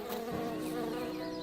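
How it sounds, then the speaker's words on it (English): A bee, the cartoon character Buzz, buzzes steadily and close by in a continuous droning hum with no pauses and no talking. "Hey, Buzz, stop buzzing in my ears."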